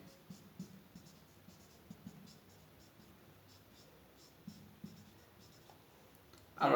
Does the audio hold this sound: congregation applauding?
no